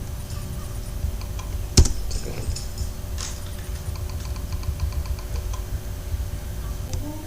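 Keys clacking on a computer keyboard during bookkeeping data entry, a steady close run of light taps with one sharper keystroke early on, no voices.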